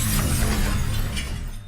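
A pane of glass shatters when a gunshot strikes it in the 2016 film Don't Breathe. A loud, dense crash of breaking glass fills the moment and then thins into scattered tinkling fragments.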